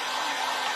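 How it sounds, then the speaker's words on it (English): A noisy hair dryer running close by, a brief steady broadband whoosh with no change in pitch and no voices. "I'm sorry I got my noisy dryer."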